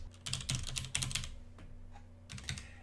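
Keys clatter on a computer keyboard in quick uneven bursts, close and crisp, with a short pause before a final flurry of typing.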